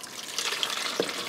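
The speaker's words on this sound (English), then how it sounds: "I'm going to put some water in this bowl" Water is poured into a bowl, a close, steady trickling and splashing that runs for about a second with a small plop near the end.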